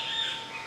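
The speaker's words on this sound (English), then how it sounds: "And you hear the birds" Birds chirping and calling among trees beside a sacred lake, a steady bright twittering carrying on without pause over soft background ambience.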